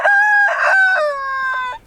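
A wheaten rooster crows once, a loud, close, drawn-out call that falls away at the end, with no other sounds around it.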